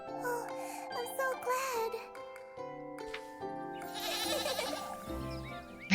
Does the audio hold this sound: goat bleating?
yes